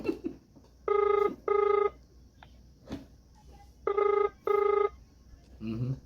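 A phone rings in two pairs of bright electronic trills, a pause between them, loud and close, with brief voices and noise at the edges.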